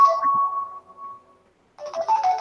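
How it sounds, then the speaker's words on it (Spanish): A mobile phone rings during a thesis defense with a short melodic electronic tone. It stops for a moment, then starts again, close and clear in a quiet room. "Para que me suena el celular, así lo apago."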